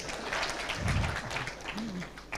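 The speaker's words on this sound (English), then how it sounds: "And God's people clapped for that." An audience at a university launch event in Mbarara claps together in a dense, steady patter, moderately distant, while a voice murmurs faintly underneath.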